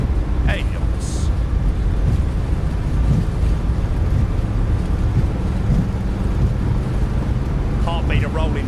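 Smartwings Boeing 737 MAX on a rolling takeoff, a constant roar of jet engines and heavy rushing wind noise, with brief cockpit callouts and chimes cutting in.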